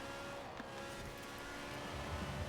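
A BMW Isetta 300 Export with a motorbike engine drones through a street race in a racing video game, a steady low buzzing hum with slight pitch wobble, moderately quiet and continuous.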